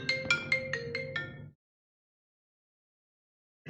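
A mobile phone ringtone goes off during a pediatrics class, a short repeating melodic ring for about a second and a half before cutting off abruptly into silence.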